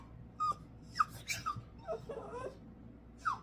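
A small dog lets out thin, high whimpers and soft whines in short separate bursts, close and quiet, with faint breathing in between.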